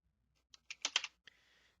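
Quick bursts of typing on a computer keyboard while fixing code, a short cluster of close, crisp key clicks followed by a single tap and a brief rattle.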